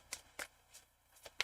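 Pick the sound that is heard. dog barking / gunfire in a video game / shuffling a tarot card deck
shuffling a tarot card deck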